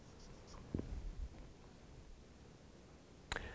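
Someone writes out a math equation, making faint, soft scratching strokes with a couple of brief sharp taps. The sound is close but quiet, with no talking.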